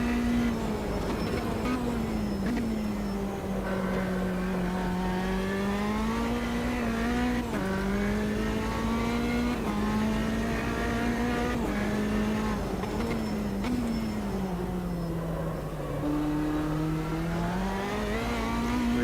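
A Honda-engined race car at Bathurst in the sim racing game Automobilista 2 drones loudly and continuously, its engine pitch rising and falling through shifts and corners, with faint tyre noise and no talk.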